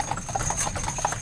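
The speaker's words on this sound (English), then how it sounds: "With a fleet of more than 300 horses, taxis take on a different pace." Hooves of horses pulling taxis on a car-free main street clop in a steady, brisk rhythm, close and clear, with no voices.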